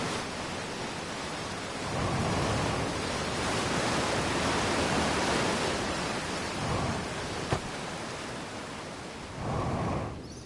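Outer Wilds waterfall rushing as a steady, broadband roar with no voices, swelling louder in a few stretches and dipping back to a softer wash in between.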